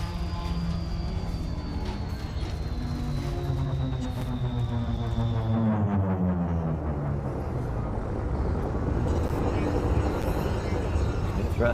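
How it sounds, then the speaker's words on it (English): Spaceship thrusters in the game Elite Dangerous give off a deep, continuous rumbling hum with a descending then rising whine, loud and sustained throughout. "Thrusters are nice."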